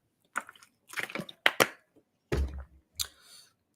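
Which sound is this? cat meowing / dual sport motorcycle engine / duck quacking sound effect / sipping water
sipping water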